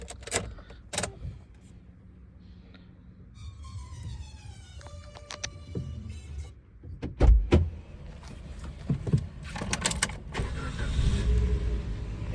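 A vehicle is started after a stretch of clicks, jangles and handling noises: a sharp burst of cranking catches, and the engine settles into a steady close idle with no talk.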